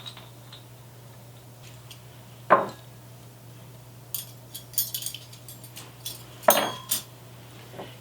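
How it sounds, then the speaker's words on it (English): Flatware is laid on a Christmas dinner table with a few sharp metallic clinks and taps in small clusters, over a quiet steady hum. "Now we'll get some flatware on."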